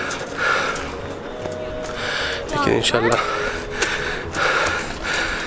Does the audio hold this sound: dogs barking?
no